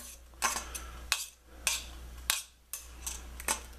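A spoon mashes hot baked potato filling in a bowl, giving a handful of sharp clinks and scrapes spaced irregularly over a low steady hum, close and moderately loud.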